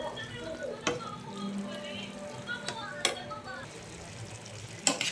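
Spaghetti being stirred in a pot, with scraping and occasional clinks of a utensil against metal over a low background hiss, fairly close and steady.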